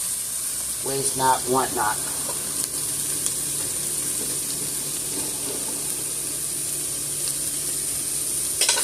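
Sage sausage sizzles steadily in a pan as it cooks down, a constant hiss throughout with brief clatter of stirring, while a person talks briefly over it.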